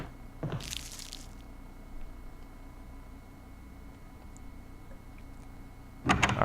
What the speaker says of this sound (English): I heard a door open. I know I did.